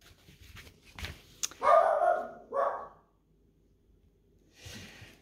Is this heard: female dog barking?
yes